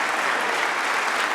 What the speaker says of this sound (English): And there's the roar from the crowd